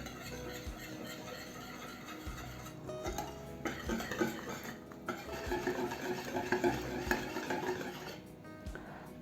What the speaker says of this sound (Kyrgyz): Жакшылап аралаштырып алабыз.